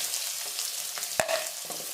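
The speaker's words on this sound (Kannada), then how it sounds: "ಈಗ ಕಟ್ ಮಾಡಿರೋ 2 ಈರುಳ್ಳಿನ ಸೇರಿಸ್ತಾ ಇದ್ದೀನಿ" Two chopped onions go into hot oil for mutton curry, giving a close, soft sizzle of frying and stirring with one sharper clatter midway.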